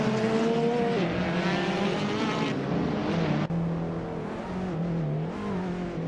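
Race cars roar around a tight track in a video game, among them a 2016 Hyundai Elantra, Mini Cooper, Peugeot 206 and an Audi, engines droning loud and steady, with pitch shifting through gear changes and no talk.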